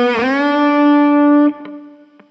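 Electric guitar note at fret 5 in the minor pentatonic, bent up a whole tone with a quick scoop, sustained loud and clear, then cut off, followed by a couple of faint picked taps.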